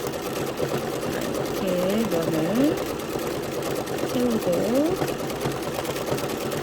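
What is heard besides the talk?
sewing machine zigzag stitching wool thread painting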